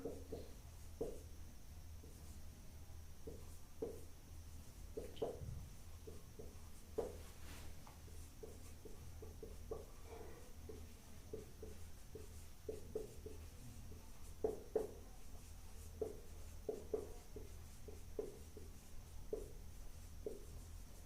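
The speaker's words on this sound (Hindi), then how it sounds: "मैंने एक सेंटेंस लिखा" A sentence is written out by hand, heard as quiet, close, intermittent scratchy strokes in short bursts with small pauses between words, in a hushed room.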